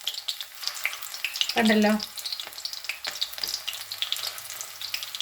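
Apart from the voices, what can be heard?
prawns frying for prawn 65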